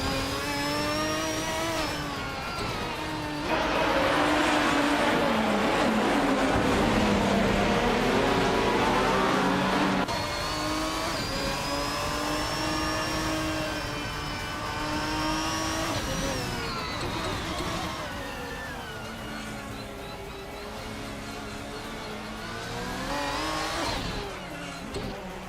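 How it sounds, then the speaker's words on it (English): A 1998 TVR Speed 12 GTS race car in a racing video game, its engine revving hard and close, the pitch climbing and falling through gear changes in a continuous, loud drone. "Pippi Langström is driving a 1998 TVR Speed 12 GTS, known for its raw power and speed"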